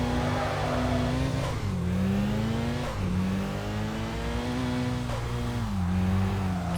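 Racing car engines in the street-racing video game Kaido Racer 2, including a big GTO, roar loudly and continuously, repeatedly revving up and dropping back with gear changes.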